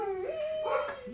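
A neighbour's dog next door gives a drawn-out howl that bends in pitch, with a brief yelp near the end, close and fairly loud, with no talking over it.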